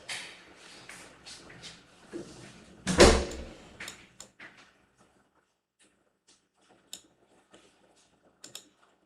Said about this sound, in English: Bro, close the door.